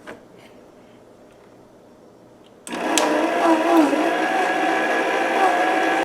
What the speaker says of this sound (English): And I'm just going to give this a blend.